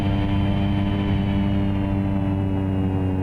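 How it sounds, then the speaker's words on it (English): Steady, loud drone of a Carenado Cessna 208B Grand Caravan turboprop in X-Plane 11 while landing at Valencia, a constant engine and propeller hum with layered tones and no talking. "So that is a landing in the Cessna 208B Grand Caravan"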